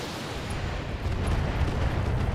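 Mortar barrage in the BattleTech video game, heard as a continuous rumbling roar of distant impacts, steady and dense with no distinct separate blasts.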